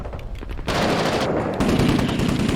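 Gunfire in Six Days in Fallujah: rapid automatic bursts, loud and close, that build into sustained heavy shooting.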